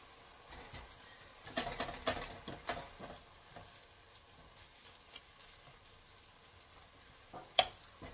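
Lean ground beef frying in a pan for shepherd's pie, a soft steady sizzle with scattered scraping and stirring clatters, one sharp knock near the end, no voices.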